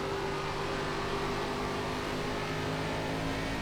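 An ARCA race car in the iRacing sim at Iowa holds a constant, loud, close engine drone at steady revs throughout.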